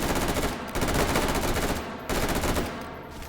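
Burst-fire M4 rifle in Call of Duty 4, loud rapid gunshots in repeated bursts with short gaps between them, close and harsh with no voices over them.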